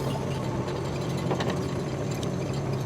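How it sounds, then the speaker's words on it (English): Kubota KX71-3 mini excavator working on a farm, its dozer blade pushing soil back into a hole; a steady, close, low diesel drone with faint mechanical clatter runs without a break. "now I'll just take the dozer blade and push that back in"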